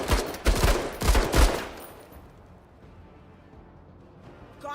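Gunfire from shooting enemies in a tactical video game comes as a few rapid, loud, close bursts of shots over about two seconds, then fades to a quiet background hum.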